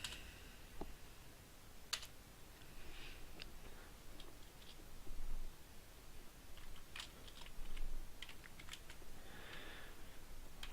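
Quiet, scattered clicks of a computer keyboard as code is typed for a Unity C# Pong game, irregular keystrokes in short bursts with no talking.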